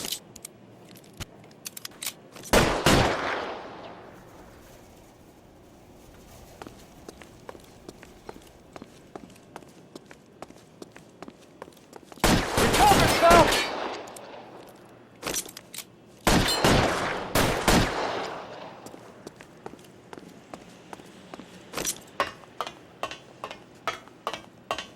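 Gunfire in a shootout from L.A. Noire, three heavy volleys of rapid shots separated by quieter stretches of scattered single cracks and footstep-like taps, loud and near with no talk.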